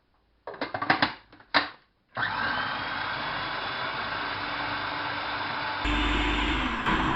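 Food processor chopping tomatoes, a few short pulsed bursts, then a steady loud whirring motor run that grows slightly louder and heavier near the end.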